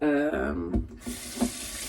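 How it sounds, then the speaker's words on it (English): Water runs from a tap onto a beauty blender sponge, a short splashing stream that breaks off into a few drips and gurgles at close range. "I'm gonna wet up this beauty blender, and so it's like nice and wet"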